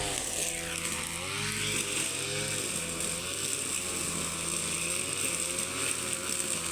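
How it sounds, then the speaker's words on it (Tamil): A brush cutter clearing forest undergrowth runs steadily and loudly, its high whining engine drone constant throughout with slight shifts in pitch as it bites into the brush. "இதுதான் காடு வெட்டுற மிஷின் பாருங்கள்"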